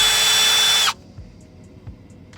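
New Milwaukee impact driver whirring loudly and steadily at close range for under a second, then cutting off abruptly, leaving quiet room noise with a couple of faint clicks.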